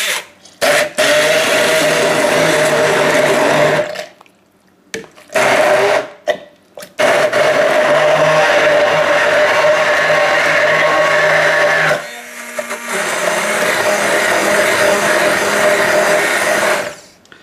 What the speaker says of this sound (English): We're just going to blitz them up. I've just bought a new Kenwood tri-blade.